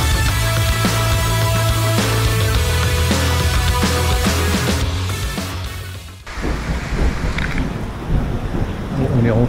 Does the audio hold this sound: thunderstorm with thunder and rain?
yes